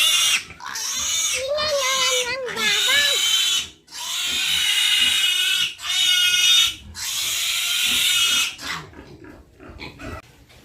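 Piglets squeal loudly and close in a piggery after being moved, with long, high shrill cries broken by short pauses, the squealing fading into quieter grunts and shuffling near the end.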